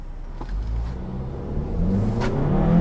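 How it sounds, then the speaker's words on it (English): A 2021 Hyundai Kona with a 7-speed dual clutch transmission accelerates, its engine note climbing steadily and growing louder over a bed of road and tire noise. "we're gonna go ahead and accelerate, and maybe you'll hear some of the road noise and how this winds up"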